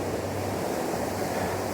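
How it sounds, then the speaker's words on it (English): A fast-flowing river near Anchorage, Alaska, swollen and gushing, makes a steady, loud, broadband roar of rushing water that fills the scene without pause. "This river was not roaring like this at all during the summer we had seen."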